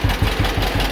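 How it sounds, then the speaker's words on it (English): An old John Deere B tractor engine, revived after sitting many years, idles close by with a steady loping two-cylinder pulse of regular low thumps, loud and alone. "She's idling really nice."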